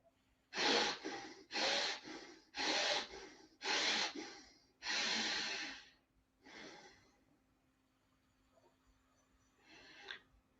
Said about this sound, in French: poursuivons une respiration lente et profonde